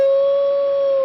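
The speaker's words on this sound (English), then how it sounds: "The weekly howl." A single sustained howl sound effect holds one steady tone for about a second, loud and clean with a smooth start and end, alone without any talk.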